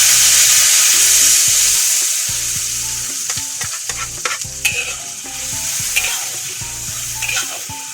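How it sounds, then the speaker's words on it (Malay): Ingredients for a coconut-milk fish curry being sautéed in a pan: loud, continuous sizzling with repeated scraping stirs of a utensil against the pan. "Okey geng, kita tumis dulu."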